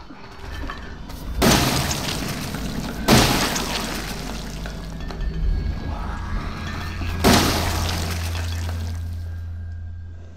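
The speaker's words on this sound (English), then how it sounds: "let's use the shittier shotgun on these two" Shotgun blasts in the Resident Evil 7 video game, three loud booming shots spaced a few seconds apart, each with a lingering rumbling tail over a low steady drone.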